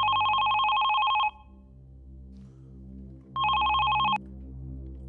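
An old-style telephone rings in two bursts of bright, rapid trilling bell tone, each about a second long and separated by a two-second pause, loud and close over a low background hum.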